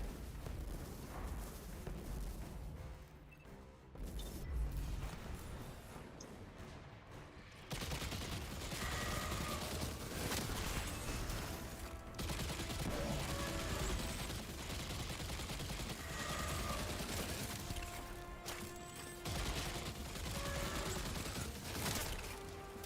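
Sustained gunfire and explosions in the shooter game Destiny 2, with dense rapid shots and blasts running loud and continuous throughout, no talk.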